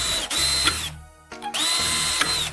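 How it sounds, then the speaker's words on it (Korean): Power drill boring two holes through a small metal profile piece, two loud sustained whining bursts separated by a short quiet gap, close and alone. "작은 금속 프로파일 조각을 가져와서 구멍 2개를 뚫으세요"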